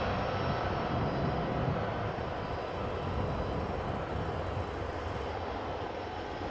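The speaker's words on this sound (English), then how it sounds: "And a 747 landing on Polderbaan" Boeing 747 landing on the Polderbaan runway at Amsterdam Schiphol Airport, a steady, broad jet engine roar held at an even level throughout, distant and unbroken with no voices.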